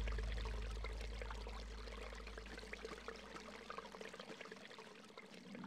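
Water flows and pours steadily in the video game Eternal Darkness, a continuous close splashing stream with a deep rumble that fades out partway, no talk.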